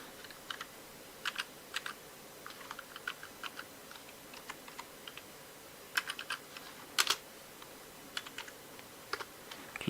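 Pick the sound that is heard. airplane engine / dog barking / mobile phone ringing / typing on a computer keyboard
typing on a computer keyboard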